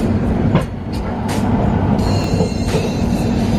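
Rajdhani Express train departing Trivandrum station, a steady loud rumble of the rail coaches rolling along the track, with faint clacks and squeaks rising over the continuous low drone throughout.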